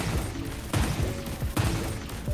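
Attal's missiles firing repeatedly in the video game Destiny Rising, a dense run of booming launches and impacts that burst out in rapid clusters at a loud, steady level with no talk.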